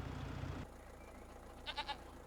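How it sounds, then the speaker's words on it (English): Goats on a trailer in a farming video game, hauled to a sale barn, give three quick close bleats near the end, after a loud low rumble cuts off, over a steady quiet background hum. "All right, and we have 8 goats loaded up."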